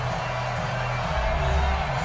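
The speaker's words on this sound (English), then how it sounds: "The crowd getting into it as we come up on a big third down." A video game stadium crowd in Madden 20 roars steadily during a tight fourth-quarter Seahawks–Cardinals game, a dense continuous cheer that swells slightly toward the end.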